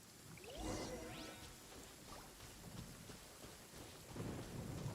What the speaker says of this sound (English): Lightning storm!